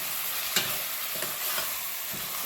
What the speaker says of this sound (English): then I'll add some tomatoes chopped, 3 in number